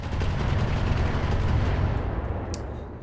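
Heavy weapon fire pounds a turret in the mech battle game Roguetech during a city fight with railguns, a dense rapid barrage of booming shots and impacts, loud and continuous, with a few sharper bursts near the end.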